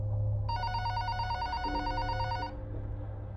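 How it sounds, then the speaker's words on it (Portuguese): A home telephone rings indoors, one loud electronic trilling burst lasting about two seconds, then a quieter low background hum. "Então, o telefone de casa tocou novamente"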